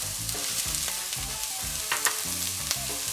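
Chopped onion and carrots frying in a hot pan, a constant close sizzle with occasional crackles and soft stirring knocks, no voices.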